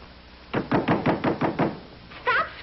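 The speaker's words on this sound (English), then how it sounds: "Stop scratching on that door." Repeated scratching or knocking against a door, about seven evenly spaced bursts close by, followed after a short pause by a brief louder scrape.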